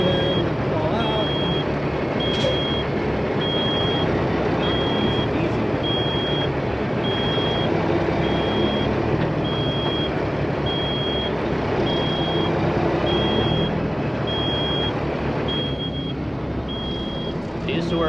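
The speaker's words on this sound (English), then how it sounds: "you get to listen to the beep" A truck's reversing alarm beeps in a steady, evenly spaced series of high tones over a constant loud engine rumble.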